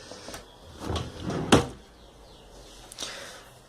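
A drawer in a home office desk slides open with a short wooden rattle and a sharp bump near the middle, preceded and followed by softer handling noises, close and fairly quiet.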